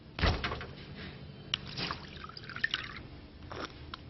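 Water dripping from a kitchen tap in a Volvic Fontaine setting: a few soft, irregular drips and small splashes, fairly close, with faint room noise between them.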